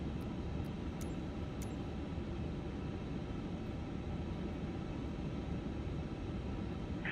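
An airliner's engine spools up at the gate in a flight simulator, a steady even roar of turbine noise that holds constant and fairly loud, with no voices.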